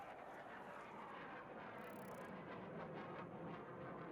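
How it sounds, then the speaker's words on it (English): A jet aircraft flies across the map in Farming Simulator 25, a dense, steady roaring rush that swells slightly as it passes, heard alone without talk. "The jet's flying across."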